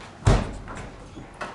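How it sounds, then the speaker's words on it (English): A standard top-freezer fridge door pulled open: one sharp thump as the seal releases, then a couple of softer knocks and rattles, close and fairly loud, with no talking. "So let me start by opening up the fridge."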